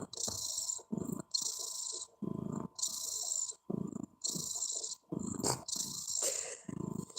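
A cat purring close up, a soft rhythmic rumble pulsing in regular breaths, quiet and steady with no other sounds.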